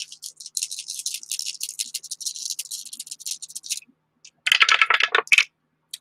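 Dice rattle and tumble across a hard surface in a tabletop baseball game: a long clicking roll, a short pause, then a second louder burst of rattling, all close and with no talk.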